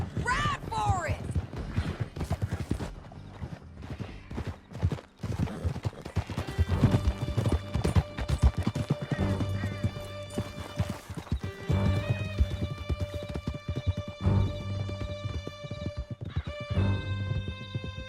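Horses gallop at full speed in Red Dead Redemption 2, a steady drumming of hooves with whinnies and neighs over a swelling orchestral score, with scattered gunfire in the background.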